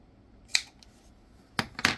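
Scissors snip through yarn during a half double crochet washcloth project, one crisp cut followed moments later by two more close, sharp snips in an otherwise quiet room.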